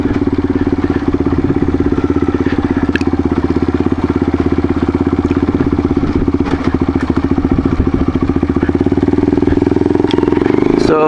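A Yamaha XT225 dual-sport motorcycle with mods and upgrades runs close by, its single-cylinder engine putting out a steady, loud, pulsing idle with some clatter, rising slightly near the end.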